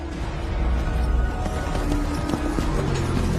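Hooves of warriors disguised as centaurs crossing mountains, a steady galloping clatter of many hooves, loud and continuous with no talk.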